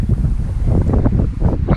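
Strong wind blowing outdoors near a Missouri Wind and Solar turbine: steady loud rumbling gusts buffeting the microphone, a continuous low roar with no speech.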